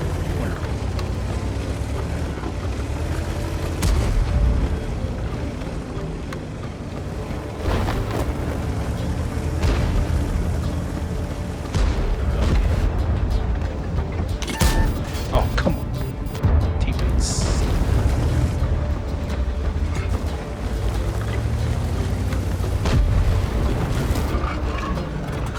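Tank guns fire and shells explode in World of Tanks, with repeated booming blasts and rumbling mechanical engine noise running throughout, loud and dense over a long stretch.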